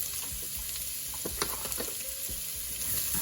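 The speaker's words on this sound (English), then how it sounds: "cook that very gently, just sweating it off" Celery, carrots and salted vegetables sweat gently in a pan for a lasagne base, a soft continuous sizzle with faint stirring scrapes, close and steady, no voices.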